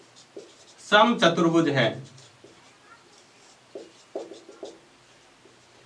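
Pen writing on paper during a maths lesson on quadrilaterals, faint scratchy strokes in short bursts following a teacher's spoken remark.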